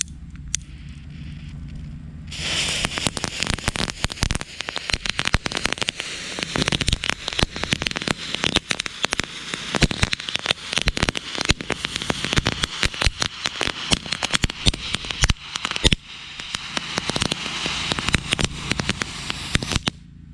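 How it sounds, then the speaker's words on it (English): A gold crackle firework effect fuse burning, starting after a short quiet lead-in and then giving dense, rapid popping crackles that run steadily and loudly to the end, with no talk. "Now we have gold Crackle."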